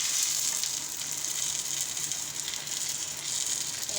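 Tortang talong, an eggplant omelette, sizzles and fries in a pan in a home kitchen, a steady close hiss with no talk.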